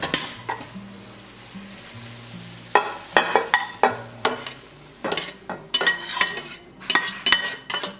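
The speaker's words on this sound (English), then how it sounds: "I'm gonna take this meat mixture, I'm gonna dump it" Meat mixture scraped and dumped from a pan into a crock pot, with a run of close clattering stirs, scrapes and soft thuds of utensil against cookware, with no talk.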